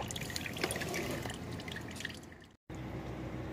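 Engine oil draining from the drain plug of a 2018 Ford F-150 3.5 EcoBoost during an oil change, a steady close trickle and patter of liquid that cuts out briefly near the end.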